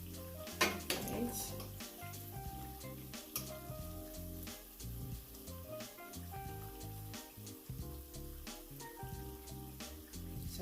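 Jamaican-style banana fritters sizzle in hot oil in a pan, a continuous crackling fry with scattered pops and clinks of a utensil, fairly close and steady.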